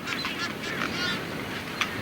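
Seabirds on Ascension Island, such as noddy terns, tropic birds, masked boobies and brown boobies, give overlapping honking, squawking calls over a constant colony din, ending with one brief sharper cry.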